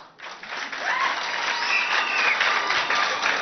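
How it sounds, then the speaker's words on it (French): A crowd applauds loudly at a school games event in Chad, with dense, sustained clapping throughout. "Et je vous demande d'acclamer très fort."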